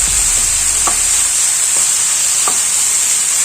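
Green cauliflower and tomato fry in a pan with a steady, loud broadband sizzle, broken by a few faint scraping stirs; no voices.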